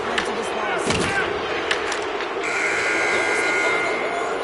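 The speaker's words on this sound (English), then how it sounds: "final horn, and that'll do it here this evening" A long, steady horn sounds over a noisy hockey arena crowd at the end of a game, starting partway through and holding to the end, mixed with crowd roar and a few sharp bangs.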